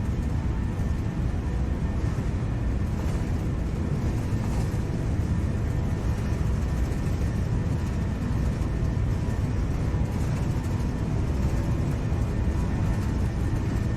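Airbus A321 IAE jet engines roar at takeoff thrust in a flight simulator, a dense, steady low rumble with a faint high whine, continuous and loud with no talk.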